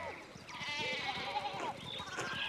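Several sheep bleat in overlapping wavering calls within the Pentiment video game, a continuous chorus of bleats at moderate level with no talking.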